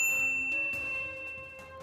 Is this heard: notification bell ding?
yes